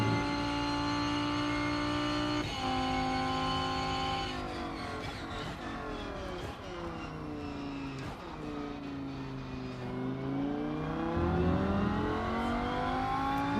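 A Porsche race car engine in the racing game Rennsport at the Nürburgring, revving steadily and loudly throughout, rising through gears with clear pitch drops at each shift and downshifts into corners, with no talk over it.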